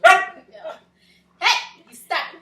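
A dog barks in short, sharp bursts, three loud barks spaced out with a softer yelp between, close to the microphone.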